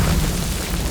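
Bombs dropping from the sky in a continuous heavy, rumbling explosion that roars loudly and steadily throughout without letup.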